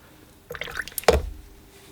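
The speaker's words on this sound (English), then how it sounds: "Add a little bit of water to it." Water poured or dripped into watercolor paint mixing burnt umber, raw sienna and burnt sienna: a brief close liquid trickle and splash with a single sharp drip, short and quiet, no talk.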